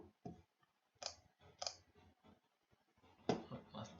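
Sharp computer mouse clicks while drawing in MS Paint, several separate clicks spaced irregularly over a few seconds, close and fairly quiet, with no talking.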